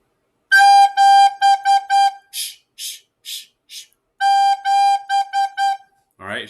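A recorder holds the note G in a rhythmic phrase of clear, steady toots, with a run of softer, breathier puffs in the middle before the bright held notes return. The player is close and there is no talking.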